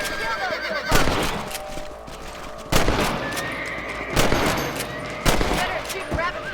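Four loud rifle shots ring out at regular intervals while hunting rabbits in Red Dead Redemption on Xbox 360, each a sharp crack with a ringing tail, with a horse whinnying and hooves in the background.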